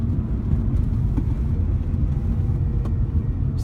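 A Mitsubishi EVO6 with a newly replaced steering wheel cruises along a road, its low engine and road rumble holding steady and loud from start to finish, with no voices.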